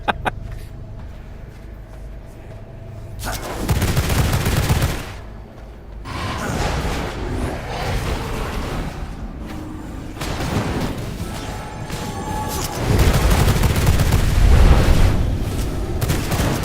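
Video game gunfire and heavy booms from V Rising come in loud bursts and thuds, sometimes clustered and sometimes spread apart, with rumbling impacts and game effects throughout.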